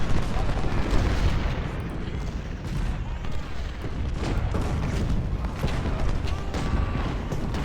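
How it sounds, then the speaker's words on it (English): Artillery fire in the Civil War strategy game Ultimate General, a steady dense rumble of booms and cannon shots rolling on without pause, loud and continuous, with talk partly mixed in. "McGowan's gonna get nailed by artillery."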